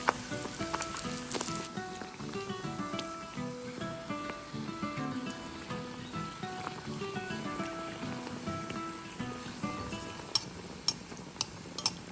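Mangalore buns frying in a pan of hot oil give a steady, moderate sizzle throughout, partly masked by background music with occasional clinks near the end.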